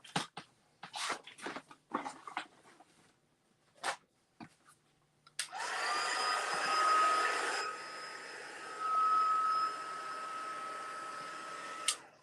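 Heat tool drying a scrapbook page, a steady close whooshing blower hum that runs for several seconds after a string of short paper taps and handling clicks.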